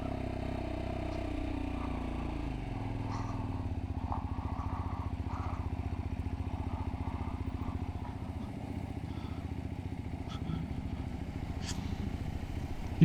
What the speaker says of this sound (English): thanks to Lexmoto for letting us out on these bikes